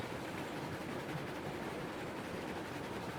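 Steady rumbling rush of a passing train in the video game Railroads Online, a dense broadband roar that holds constant throughout with no voices over it.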